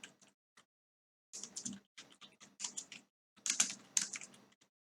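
Bursts of rapid keystrokes on a computer keyboard as code is typed, clicking in uneven clusters with short pauses between them, close and clear with no voices.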